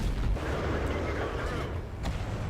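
Tank cannon fire in World of Tanks: a loud, dense boom that rolls into a sustained low rumble and lasts the whole stretch, with a second blast near the end.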